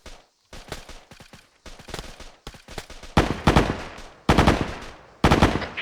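Machine gun fire in a military-style training exercise, a series of rapid bursts separated by short gaps, growing louder and closer toward the end, with no talking.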